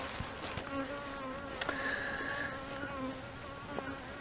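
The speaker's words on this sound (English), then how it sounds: "That's a bunch of field bees right there." Field bees buzz around a house, a dense, continuous drone of many wings with individual bees swelling and passing close by. The sound stays quiet and steady, with no talking.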